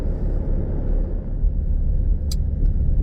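Steady low road rumble from inside a moving vehicle on a long evening drive, a continuous close drone of engine and tire noise with one brief faint click partway through.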